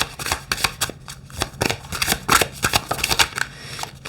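Tarot cards being shuffled by hand: a quick series of crisp papery riffles and slaps, close and fairly loud, repeating in bursts with no voices.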